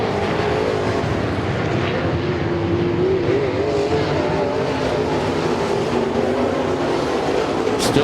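A race car engine refires on a speedway track, a steady droning motor note that holds and shifts slightly in pitch, loud and continuous, with other engine noise around it and no talking.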